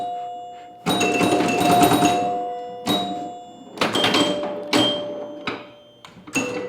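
Chimes of a vintage Williams Grand Prix electromechanical pinball machine ring out loud and close in a few bursts, each struck tone decaying slowly, mixed with mechanical clatter of the playfield.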